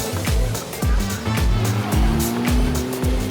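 Porsche Carrera Cup race cars roar past one after another at the Nürburgring, each pass a loud swelling engine note that drops in pitch, with a steady high-revving drone continuing between them.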